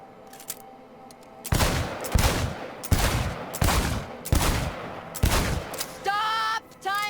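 Rapid bursts of gunfire at a shooting range in Cyberpunk 2077, five or six loud, close volleys in quick succession, then a brief sharp electronic chirping at the end.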